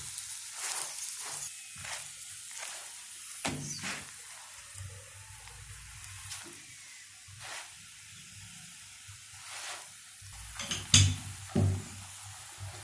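Radish paratha fries in ghee on a hot pan after being flipped, giving a soft hissing sizzle with repeated bursts of louder spitting and crackling, close and alone.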